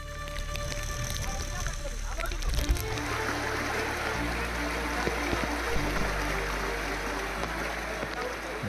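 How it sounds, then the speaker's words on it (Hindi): Roaring floodwater of the Beas river in Himachal Pradesh, a continuous broadband rush and churn with steady loudness throughout, a voice briefly audible early on. "हिमाचल में ब्यास नदी का कहर लगातार बढ़ता जा रहा है"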